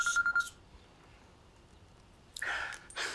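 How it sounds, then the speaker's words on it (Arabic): A telephone rings in two short electronic bursts separated by a quiet gap, fairly close and clear with no talking over it. "ايه ده؟ ايه؟ تليفون."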